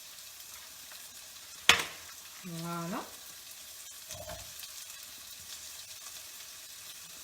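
Basque-style chicken frying in a pan, a soft steady sizzle running throughout, with a sharp clink of a utensil, a brief scraping stir and a short spoken word.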